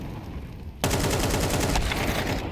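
An AWP sniper rifle fires in a Counter-Strike match, a sudden loud crack that cuts in over steady game ambience and then rings out in a sustained roar of gunfire and crowd-like noise.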